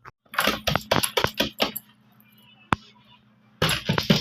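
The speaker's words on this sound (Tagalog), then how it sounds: "Ito po pala yung susi sa bahay" House keys jangle and clink close by in a quick run of metallic bursts, then go quiet before a final jingle as they are handed over.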